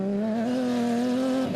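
Toyota Hilux and Nissan Navara rally trucks racing through dust at the Adenco 400, a steady, loud engine drone holding one pitch that shifts slightly near the end, with no voices.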